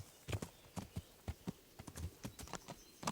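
Horse hooves clip-clopping in Kingdom Come: Deliverance as a rider heads down toward a small creek, a steady, uneven run of fairly soft, close hoof strikes with no talk.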